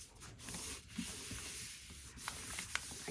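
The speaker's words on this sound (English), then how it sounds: "Again, I'm going to do a light rub." A light hand rubbing paper over a gelli printing plate, a soft close scratchy brushing in short strokes with a few small taps, no voices.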